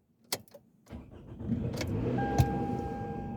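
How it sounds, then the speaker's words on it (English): A car starting up: a couple of sharp clicks and thumps, then the engine catches and settles into a steady idle that stays moderately loud, with a thin whine and a brief knock partway through. "I got to start the car because I'm about to get out of here."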